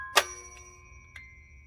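A bell on a 1970s Disney musical busy box toy gives one bright ringing strike that decays slowly, then a softer second tap about a second later, in a quiet room.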